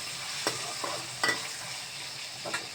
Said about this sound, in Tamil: இங்கே வெங்காயம், சிகப்பு மிளகாய், டொமேட்டோ, ஒரு 3 டொமேட்டோ போட்டு எல்லாத்தையும் வதக்கிக்கிட்டு இருக்கேன்